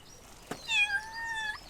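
A cat character meows in a video game: a single drawn-out, tonal meow rising and falling over about a second, preceded by a brief soft click, heard alone at moderate level.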